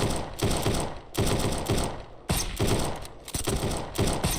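Rapid automatic gunfire from a video game shooter, loud and close, in dense bursts of rattling shots broken by brief gaps.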